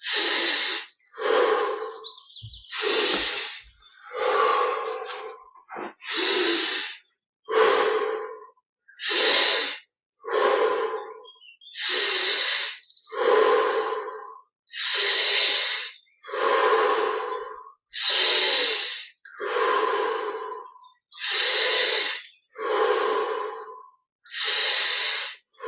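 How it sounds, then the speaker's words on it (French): Deep, slow breathing, drawn in through the nose and pushed out through the mouth, about twenty even breaths in a steady rhythm with short pauses between, close and loud with no talking. "Et on respire 20 fois profondément. Inspire par le nez, expire par la bouche."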